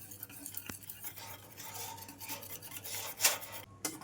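A spoon stirs Italian hot chocolate in a pan as the chocolate melts, with soft scraping and rubbing strokes against the metal and a sharper clink near the end, close and fairly quiet.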